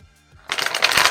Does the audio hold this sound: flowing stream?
no